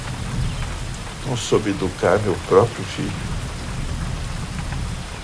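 Heavy rain pours steadily through a Brazilian film scene, a continuous wash with a faint low rumble of thunder beneath it, while someone speaks emotionally over the downpour.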